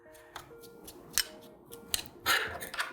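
Scissor tips picking lint out from the parts of a sewing machine, a few sharp clicks and snips scattered irregularly, close and quiet, ending in a brief scraping rustle.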